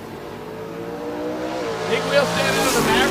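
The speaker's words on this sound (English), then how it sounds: "Big wheel standing on the Maverick until they go off the starting line" A Ford Maverick and a Gasser-style hot rod launch off the starting line at a drag strip, engines revving loudly and climbing in pitch together, with tire noise and a commentator talking over the roar.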